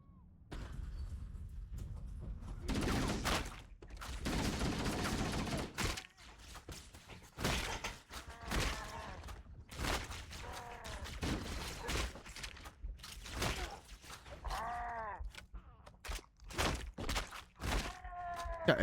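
Gunfire crackles through a Halo match in bursts and scattered single shots, with thuds and game effects in between and a voice talking at times.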